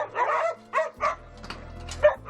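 A rescued, malnourished and frightened podenco hound gives several short yelps and whimpers in a row, close by, with a low steady hum underneath.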